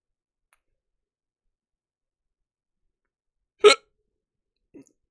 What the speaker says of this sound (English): I think I have the hiccups now.